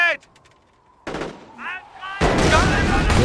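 Rifle and machine-gun fire in the video game Company of Heroes crack out in short bursts, ending in a dense, loud volley, with shouted voices in between.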